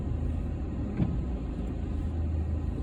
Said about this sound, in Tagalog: May sasakyan sa likod ko, alam nyo na.